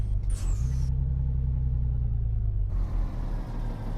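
A truck engine in Euro Truck Simulator 2 double-clutching down a gear, a deep low rumble with a short hiss and whine at the start, then a steady idle-like drone.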